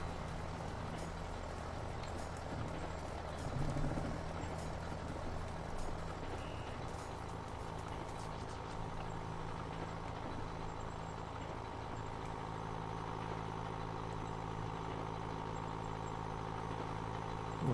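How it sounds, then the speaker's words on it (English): A tractor in Farming Simulator 19 pulls a straw baler uphill, its engine a steady, continuous drone with a low hum that stays constant throughout, with no talk over it. "The tractor's pulling it all right uphill."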